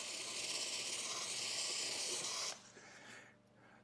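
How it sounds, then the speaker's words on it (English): A handheld steamer used to soften matte paint protection film on a vehicle hisses steadily and close, then cuts off sharply, leaving a faint lingering sputter. "We're going to get our steamer going."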